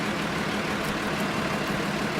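Steady hum of a Ford tractor engine, around 200 horsepower, driving in Farming Simulator 2013, a constant droning rumble with no change in pace and no voices.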